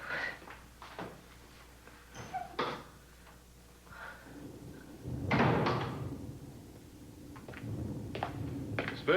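A door opening in a drama-series scene, with a series of knocks, clunks and latch sounds followed by a louder rattling swing, close by amid quiet room tone.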